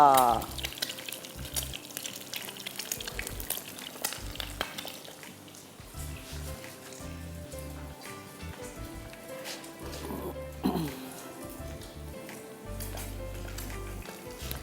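An egg fries in a pan, with a steady crackling sizzle running throughout, loud and close, mixed with other faint kitchen clatter.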